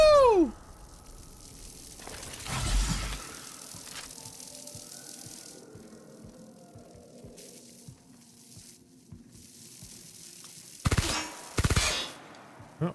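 Gunfire from The Outer Worlds video game: a loud opening blast and a burst around two seconds in, then quieter game ambience with faint ticking, then two more sharp bursts near the end, with no talking.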